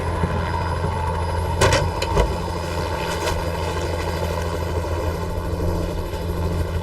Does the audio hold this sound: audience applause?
no